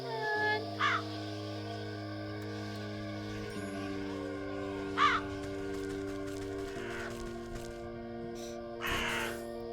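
A few short crow caws from the video game Wytchwood rise briefly over a steady layered music bed, spaced several seconds apart and fairly faint.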